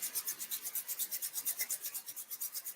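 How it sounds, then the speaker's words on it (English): Palms rubbing briskly together with a few drops of essential oil, a soft, close, rhythmic swishing of quick back-and-forth strokes repeating steadily. "Rub your hands together,"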